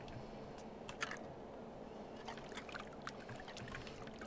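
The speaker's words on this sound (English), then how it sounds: "So the sounds we get are kind of the sounds of washing dishes" In the Sims 2 video game, with a laundry mod, a character hand-washes clothes in a wash tub: soft splashing, trickling and small clinks, faint and intermittent against a quiet background.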